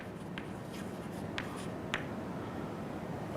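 Pen or chalk strokes writing out an equation by hand, a few short scratchy marks spaced apart over quiet room noise, faint and close.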